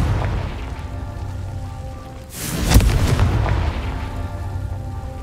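A Confringo explosion spell in the video game Hogwarts Legacy, a single booming blast with a sharp crack that swells and slowly decays over a rumbling ambient bed.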